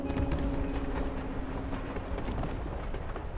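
A moving train in the video game Life Is Strange: Before the Storm Remastered, a continuous rumbling rail clatter with rhythmic knocks, steady and moderately loud throughout.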